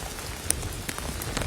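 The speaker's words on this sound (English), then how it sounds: "the rain is really coming down" Heavy rain pours down in severe weather, a steady dense hiss of drops striking surfaces with scattered sharper splats, continuous and close, with no voices.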